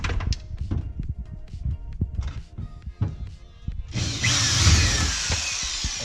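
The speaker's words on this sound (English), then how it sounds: "Drilled through the C6." A power drill bores through a C6 Corvette part in a garage, a loud, steady whining grind that starts partway in and runs to the end after scattered clicks and handling knocks.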